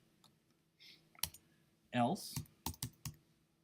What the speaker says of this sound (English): Let me finish typing it in.